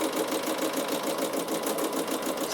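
A Bernina sewing machine fitted with a ruffler foot runs continuously at steady speed, giving a close, dense mechanical whir with fine rapid stitching pulses and no pauses.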